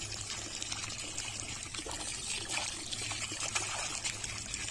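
Pressurised water sprays onto waterlily and lotus leaves, a continuous close hissing patter with splashy trickling, steady and moderately quiet, with no voices.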